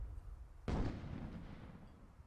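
An incendiary mine bursts in a video game airship battle, one sudden sharp blast followed by a rumbling decay that fades over two seconds, fairly quiet overall.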